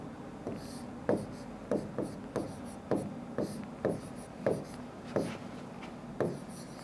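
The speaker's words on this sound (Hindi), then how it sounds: "देखो मैं हिंदी में लिख रहा हूं" Chalk or marker strokes scratching across a board in an irregular rhythm of short scrapes and taps, close and fairly quiet, with no one speaking.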